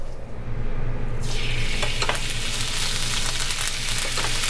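Chicken and shrimp fried rice cooking in a pan, hissing loudly as food hits the hot oil, with a continuous sizzle and scattered scraping stirs, no voices.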